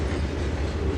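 Low, even rumbling of a train moving on rails in Trainz 2022 with a soft rattle of rolling cars, steady and close throughout the short stretch.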